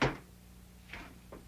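A drawer is pulled open indoors: a sharp wooden knock at the start, then two softer scraping slides and a faint low hum behind, with no talking.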